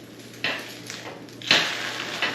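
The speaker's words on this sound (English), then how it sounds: "I still know how to flip an egg with a spatula." A metal spatula scrapes and taps in a pan while flipping a fried egg in butter, giving three or four short clattering hits spaced apart over a faint background hum. Close and fairly loud, no talking.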